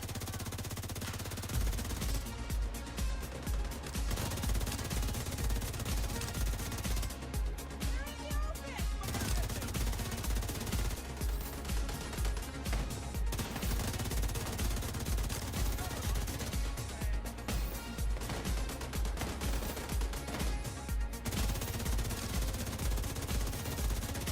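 Rapid enemy turret gunfire from The Division 2 video game, a loud continuous rattling burst pattern with brief pauses, running under dense game music and effects.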